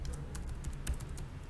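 Keys tapped on a computer keyboard while a website name is typed: a quiet, irregular run of soft clicks with a few louder strokes, close by and with no voices.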